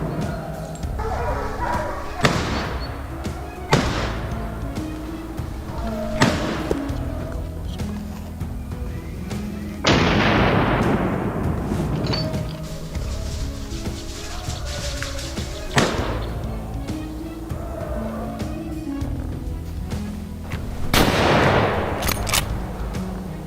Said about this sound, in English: Harry, keeping steady aim, took careful shots.